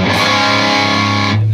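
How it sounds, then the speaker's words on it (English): A distorted electric guitar slides along the low E string from around fret 17 down to around fret 3, a loud continuous sustained tone that shifts pitch over about a second and a half, then stops abruptly. "And then up around fret 17 on the low E, slide that to around fret 3."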